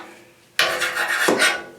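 Rough rasping scrape of grime being cleaned off a sliding shower door sweep, starting abruptly and continuing in two close, fairly loud strokes with no talk.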